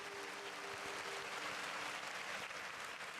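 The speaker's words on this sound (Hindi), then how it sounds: "ताली बनती है, एक बार ताली बजाइएगा।" A large crowd gathered for a Jain religious ceremony claps steadily, dense continuous applause filling the hall from start to finish.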